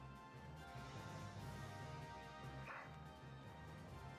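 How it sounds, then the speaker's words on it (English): Ragna, a Shiba Inu medic dog in the video game Valkyria Chronicles 4, barks in a rapid string of short yips, faint and buried under dense game music and noise. "ラグナの鳴き声だ。"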